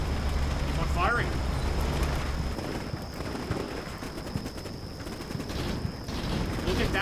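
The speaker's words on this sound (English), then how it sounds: "Our men are returning fire." Infantry returning fire in the war game Combat Mission Shock Force 2, a steady rattle of distant gunfire over a constant battle-noise rumble with a faint tone running throughout.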